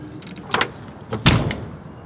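A sliding storage door on a DRV Mobile Suite 5th wheel RV glides and thuds shut, with a couple of short loud knocks close by in a brief burst.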